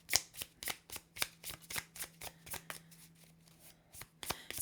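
Close, rapid riffling of tarot cards being shuffled by hand, a dense run of crisp flicks that slows and softens partway through, then picks up again briefly near the end.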